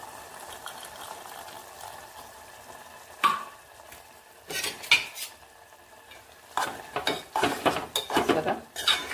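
Ridge gourd curry simmering in a pan, with irregular scraping and clinking of a spoon stirring against the metal, growing busier and louder toward the end, with a faint sizzle underneath and no talking.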